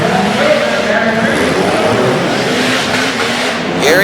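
A Jeep Cherokee tough truck runs around a dirt race track in Harrisburg, Pennsylvania, its engine roaring steadily and loud throughout, with an announcer talking over it and a brief rising rev near the end.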